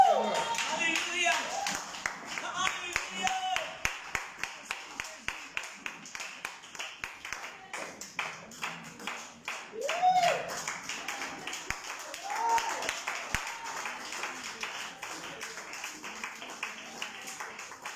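A church congregation claps in rhythm during a French-language Sunday worship service, steady sharp hand claps running throughout, mixed with singing or acclaiming voices.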